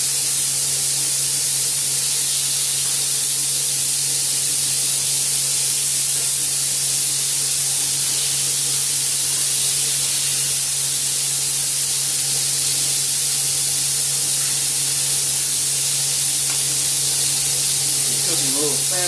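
Stuffed sliders sizzle steadily in a hot pan, a constant loud hiss and crackle that holds throughout with a low steady hum beneath and no talk.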